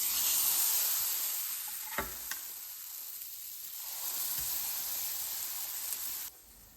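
Ghee sizzling in a pan for a besan chilla breakfast, a steady bright hiss that swells and fades over several seconds with a couple of brief clinks, fairly close and with no talking.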